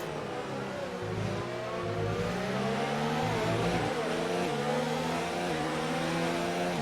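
Several race cars in a sim racing game battle into a hairpin at a Mexico circuit, their engines droning and overlapping in continuous close revving, with pitch dipping under braking and climbing again as they power out.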